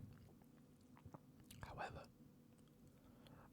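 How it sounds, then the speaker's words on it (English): Soft wet gum-chewing mouth sounds, close and intimate, with a few faint clicks and smacks over a low background hum and brief whispery breaths. "A few little mouth sounds of gum chewing."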